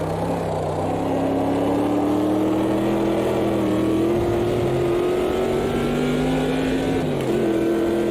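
Race car in the Automobilista 2 sim racing game, engine droning steadily with shifting pitch as it spins off into gravel, loud and continuous with no talk over it.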